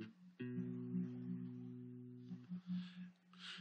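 A bass guitar plays notes at the ninth fret of the D string, fretted with the fourth finger, each note clear and sustained, the second a longer held tone, alone and fairly quiet.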